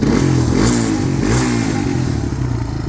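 A Suzuki LT230S four-wheeler with a freshly rebuilt engine runs steadily up close, a loud, even putter with slight clattery rises in pitch as it revs a little.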